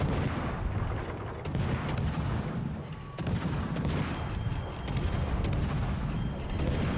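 Dense, continuous naval gunfire and booming explosions in World of Warships: Legends, a battleship firing on a destroyer, with rapid overlapping shots and heavy rumble throughout and no pauses.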